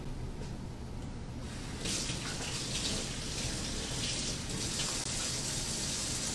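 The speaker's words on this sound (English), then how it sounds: "let me go ahead and wash my hands real quick" Hands washed under a running tap, a steady close rush of water with the stream shifting and splashing as the hands move through it, then raw turkey handling follows later.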